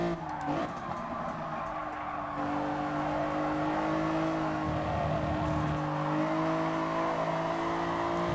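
Race cars in the Gran Turismo Sport game, Fugu Z Cup, roar at steady high revs with a continuous engine drone, tire scrubbing and a brief shift near the start, loud and close throughout.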